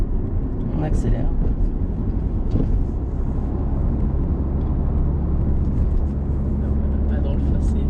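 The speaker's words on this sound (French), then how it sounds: "Allez, on accélère." A car engine revs and pulls hard as the driver accelerates on a country road, a steady loud rumble running throughout beneath excited French conversation.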